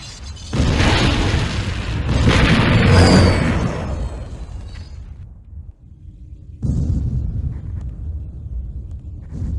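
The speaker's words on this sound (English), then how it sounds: "The temple's been blown all to hell." A temple blown apart by a massive explosion in Command & Conquer: a loud, rumbling blast swells and decays over several seconds, falls nearly silent, then a second, fainter rumble of aftermath follows.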